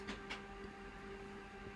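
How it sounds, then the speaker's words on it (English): A home office printer running, a faint steady mechanical whir with a constant tonal hum and a couple of soft clicks near the start, distant and with no talk. "I'm sorry if you can hear my printer kicking off"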